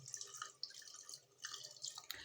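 A small amount of water is poured into a pot of arvi masala, giving faint, close trickling and dripping splashes that come and go over a couple of seconds with no speech.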